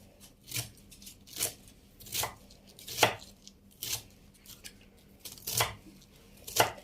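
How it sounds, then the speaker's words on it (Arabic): Raw chicken is cut into small pieces for broasted chicken with a knife on a board, giving about nine crisp chopping strokes at an uneven, unhurried pace, close and fairly quiet. "نقطع الجزء كده وناخده نمسكه كويس، وحاولي بقدر الامكان ان هي تطلع معاكي صغيره"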